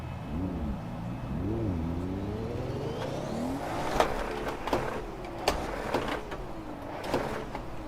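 A 500 hp Lexus GS300 in the Assetto Corsa racing game launches on a clutch that may be worn out. The engine revs and bogs in wavering pitch sweeps, then pulls away with a rising tone, with a few sharp clunks and ticks toward the end.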